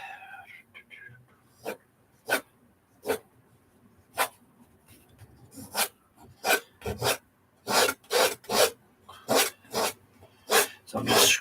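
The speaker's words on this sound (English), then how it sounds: "So I'm just scraping off as much paint as I can get" A palette knife scrapes oil paint off a canvas in short, separate rasping strokes, sparse at first and then quickening into a fast, loud run of close scrapes.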